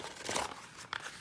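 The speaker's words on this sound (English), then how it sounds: "So put it in a ball like this, just crumple it" A paper map crumpled into a ball gives brief crinkling and crunching rustles, close and fairly faint, with a sharper crackle near the end.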